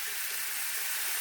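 A continuous bright sizzle of butter melting in a hot pan alongside a ribeye steak, steady and fairly loud with no talking.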